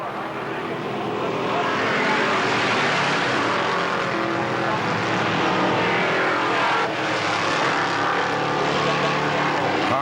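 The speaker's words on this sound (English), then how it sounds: "They pick up the throttle out of turn 4. Green flag flies and we are racing." Race cars accelerate hard out of turn 4 at Kil Kare Speedway, producing a loud, sustained roar of several engines that builds and holds steady as the pack passes.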